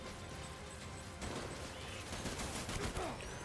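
Rapid gunfire in the video game Death Stranding, blood bullets fired in quick bursts of dense cracking shots that grow busier and louder after the first second, with game noise beneath.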